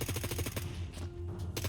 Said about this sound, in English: I'm getting shot at.